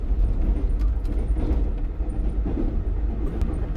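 Green Line passenger train running through Bullari railway station without stopping, heard from on board as a continuous low rumble with wheel clatter and occasional faint high squeals, steady and fairly loud.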